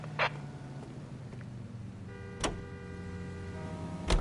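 An old car drives along in the video game LA Noire, its engine running as a low steady hum with a few sharp clicks and knocks over the top.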